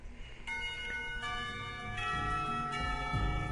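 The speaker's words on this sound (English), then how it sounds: "finally the bells cry out, ending the torment" A school bell rings out in the visual novel game Katawa Shoujo, with layered, sustained metallic tones entering in staggered strikes that build and overlap into a ringing chord over a low background rumble.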